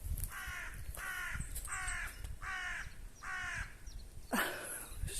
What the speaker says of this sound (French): C'est un corbeau, ça.